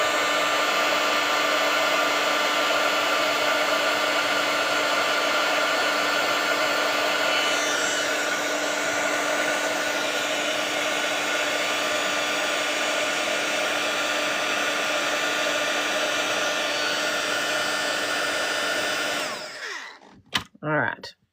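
A hair dryer drying watercolor paint runs loud and steady from close by for nearly twenty seconds, then switches off, leaving a few clicks and faint handling sounds.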